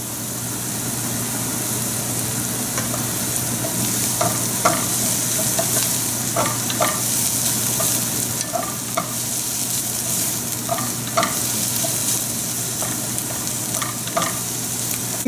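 Garlic and onions fry steadily in a pan, a continuous close sizzle with scattered soft pops and crackles running the whole way, no voices over it.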